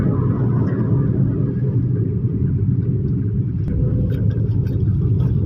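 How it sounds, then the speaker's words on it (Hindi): A car driven through Karachi by a younger brother, its engine a low steady rumble from inside the cabin, loud and continuous with no talk over it. "ये ड्राइविंग हो रही है अपने छोटे भाई की ना"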